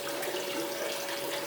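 Water rushes steadily through a spiral gold wheel used to recover gold and black sand, a constant, fairly faint hissing flow with no voices.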